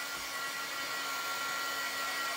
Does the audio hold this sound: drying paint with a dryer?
yes